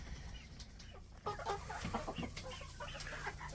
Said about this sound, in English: Chickens are always fun.